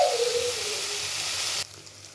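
Bitter gourd slices fry gently over low heat in a pan, a close, even sizzle with a soft stirring scrape early on, cutting off sharply near the end to leave quieter hiss.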